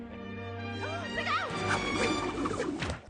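In a scene from the Austin Powers film, a thrown shoe strikes someone with a brief, clattering smack. Music plays, then a burst of scuffling, impact noise rises above it.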